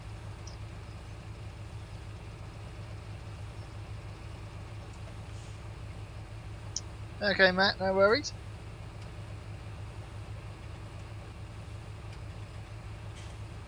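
A John Deere tractor in Farming Simulator 17 idles with a low, steady engine drone, and someone speaks briefly over it midway.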